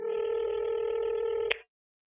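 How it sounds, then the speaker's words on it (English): A satellite phone gives off a steady electronic tone, close and even, that runs for about a second and a half and then cuts off with a short click, leaving silence. "phone is ringing. I have a satellite phone that I left somewhere."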